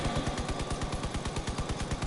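Vehicle-mounted weapons fire in the game Crossout, including a shotgun, a long-range autocannon and a machine gun, in a rapid, evenly spaced burst of sharp shots that repeat without pause.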